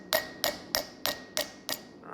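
Six evenly spaced sharp hammer blows ring on metal during blacksmith dapping, each strike bright with a short metallic ring, steady and close with no talk.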